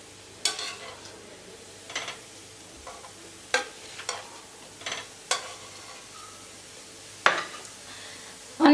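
Bhakhri flatbreads turned on a hot griddle over a low background sizzle, with a series of separate sharp taps and scrapes spaced about a second apart as each one is flipped; no voices.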